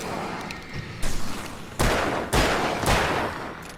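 Several loud, sharp gunshot-like blasts in the Alan Wake video game as a flare gun fires at enemies, three big booming bursts over a dense rumbling background.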